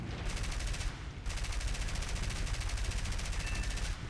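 Aircraft machine guns firing in War Thunder, loud rapid continuous bursts with a brief pause near the first second, then sustained rattling fire close and alone.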